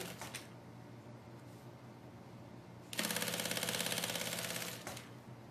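A sewing machine stitches a zipper onto a bag lining, starting with a backstitch: a fast, close, rhythmic rattle running for about two seconds before stopping, with quieter handling noise before it.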